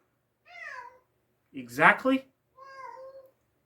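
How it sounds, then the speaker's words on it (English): A cat meows twice, clear and close, with a short burst of human speech between the two calls. "Listen to the cat."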